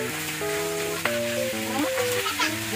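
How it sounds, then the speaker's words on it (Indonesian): Milkfish frying in a pan just after the lid comes off, hot oil sizzling and spattering steadily with sharp pops, close up while background music plays. "itu aja baru dibuka tutupnya udah mulai muncrat-muncrat minyaknya ya"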